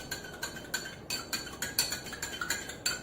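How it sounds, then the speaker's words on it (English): A spoon stirs common salt, sodium chloride, into water, giving about ten light, regular metallic clinks against a glass container, close and fairly quiet with no talking. "I am going to add some salt, common sodium chloride, and I'll give it a nice stir"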